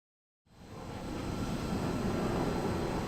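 Jet aircraft engines in Ace Combat 7 rising from silence into a loud, steady broadband roar that builds over the first second and then holds constant, with no voices.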